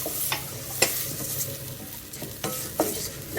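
Rice stirred into a Portuguese refogado in a pan for tomato rice, with a continuous sizzle of frying under several sharp scrapes and clinks of a spoon against the pan, no voices.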